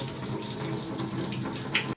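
Water pours steadily through a Sawyer Mini filter at home, a constant close splashing rush that runs for about two seconds and then stops abruptly.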